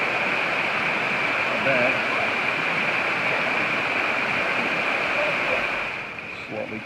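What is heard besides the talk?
waterfall at Litchfield National Park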